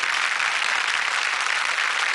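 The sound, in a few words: applause for the girl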